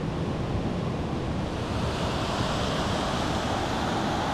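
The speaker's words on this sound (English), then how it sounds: "So there's a giant river here." Rushing water of a giant river beside a trail, a loud, continuous roar that stays steady throughout, with no one speaking.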